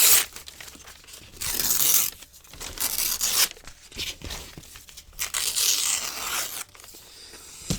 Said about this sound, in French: le mieux, c'est quand même de la déchirer